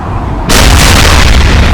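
A robot's primary weapon fires in the Damnation video game: a sudden loud blast cuts in after a quiet moment and booms on as a sustained roaring explosion.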